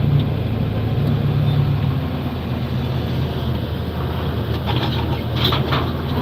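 A tractor fitted with BKT tires drives across a large Michigan field while rocks are picked, giving a steady, loud, close engine rumble that continues without a break.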